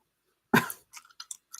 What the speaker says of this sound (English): I'm chewing gum.